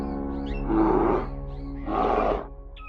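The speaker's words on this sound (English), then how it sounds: "When the Kamchatka brown bear roars through the mountains and forests, it's more than a wild call" A Kamchatka brown bear gives two loud, drawn-out roars in wild mountain forest, each about half a second long and separated by a short pause, close and heavy over a low background rumble.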